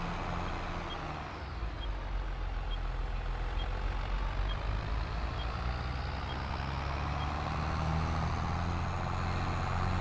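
A large truck manoeuvres in the Schwaadeheim video game, its engine droning low and steady while a faint, regularly spaced reversing beep repeats over the rumble throughout.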